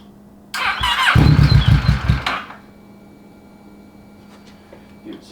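A 600cc crosskart engine cranks and briefly catches with a loud sputtering burst for about two seconds, then dies back to a quiet background hum.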